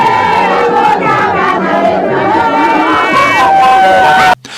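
A large crowd in Goma welcomes a politician with loud, dense cheering, shouting and chanting voices, close and continuous, before cutting off abruptly near the end.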